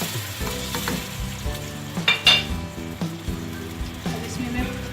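Masala sizzles and fries loudly in a pan as about a glass of water goes in with turnips for shalgam palak, a steady close crackle with stirring and brief spits.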